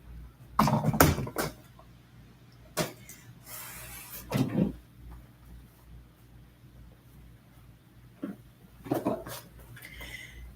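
A big chair is moved into place indoors, with scattered knocks, thuds and a brief scraping slide, separated by quiet pauses and some soft rustling.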